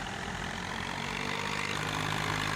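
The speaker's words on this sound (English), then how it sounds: "We're going to take the Lizard again, because I do love this little tractor." The little Lizard tractor in Farming Simulator 19 idles with a steady, even low engine rumble, close and constant, with no one talking.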